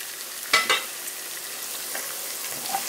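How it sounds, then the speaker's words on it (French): Pilau rice stirred in a pot over a soft steady sizzle, with two quick scraping knocks near the start and faint clinks afterward. "On mélange un peu"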